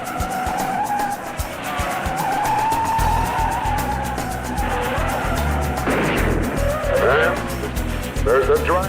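Race cars at the Indianapolis 500 roar around the track with tires squealing and skidding, a dense continuous engine drone under wavering high screeches, while an announcer's voice carries over the crowd noise throughout.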